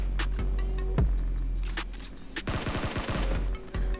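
Rapid automatic gunfire from a PUBG Mobile match with an M249 light machine gun, loud bursts of close shots, then a dense rattling volley near the end.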